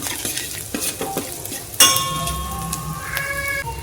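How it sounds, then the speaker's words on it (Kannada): Ginger frying in a pan, a steady sizzle with scraping stirring strokes and a sharp metallic clink of a utensil against the pan partway through. "ಸ್ವಲ್ಪ ಹಸಿ ವಾಸನೆ ಹೋಗೋ ತನಕ ಇದನ್ನು ಫ್ರೈ ಮಾಡ್ಕೊಳ್ಳೋಣ"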